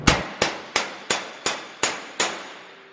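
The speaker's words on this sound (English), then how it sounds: "So you're about to hit it right now? Yep. So I'll just go behind it with a dolly," Hammer blows against a dolly flattening a sheet metal truck firewall on a C10 pickup: seven sharp, ringing metallic clangs at an even rhythm, each decaying quickly, close and loud with no talking.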